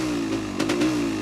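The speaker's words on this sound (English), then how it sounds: "So it's off the choke now and it's ticking over okay" The engine of a vintage 1970s motorcycle, a Yamaha DT400 Enduro or Honda CB550 K1, idles with the choke off, a steady, close, even engine note with a slight flutter partway through.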